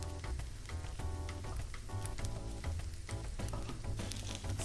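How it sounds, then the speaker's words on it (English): Butter chicken ingredients sautéing in a pan give off a faint, steady sizzle with soft crackles and pops that continue throughout, with no talk. "So we're just going to saute this off very quickly. Sizzling away really nicely."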